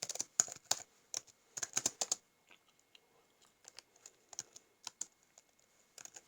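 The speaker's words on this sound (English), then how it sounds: "It's very hard to type with one hand, you know." Someone types on a ThinkPad laptop keyboard in irregular bursts of close, crisp key clicks, with brief pauses between flurries.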